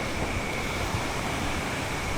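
Water rushes strongly down a slippery waterfall in Australia, a steady, loud, close roar of broadband spray with no pauses and no voices.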